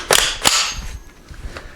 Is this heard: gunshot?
yes